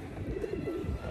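Pigeons cooing in a town square in Sibiu, Romania, a soft, continuous low warbling murmur with gentle rises and falls, no talking over it.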